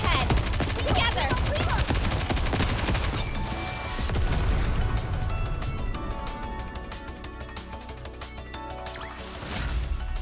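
Dense automatic gunfire in the game NIKKE, a loud continuous barrage of overlapping shots and impacts that eases slightly toward the end.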